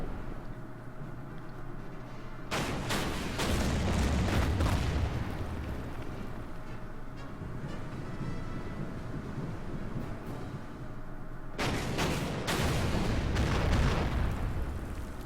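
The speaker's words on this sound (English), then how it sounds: "The destroyers are going to take some shots." Destroyers firing in the Order of Battle war game, heavy booming blasts that roll into long rumbling bursts, two separate loud volleys with a dull roar between them.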